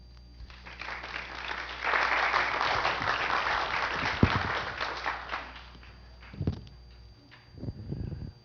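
An audience applauds to welcome a guest lecturer, a steady wash of clapping that swells and holds for several seconds before thinning, followed by a few scattered thumps and brief murmurs.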